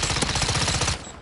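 A shotgun loaded with fire rounds blasts in a video game firefight: a fast, loud, close burst of rapid shots that stops abruptly after about a second.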